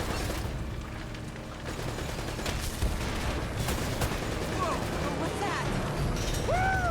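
Gunfire and explosions crackle through a firefight in the video game Uncharted: Drake's Fortune, with dense bursts and booms running continuously over a loud, busy battle bed.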